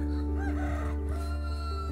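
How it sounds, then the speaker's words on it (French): A rooster crows nearby on a homestead by a newly finished greenhouse, a loud drawn-out harmonic call that fills the moment, over a steady low background hum. "Même le coq est content."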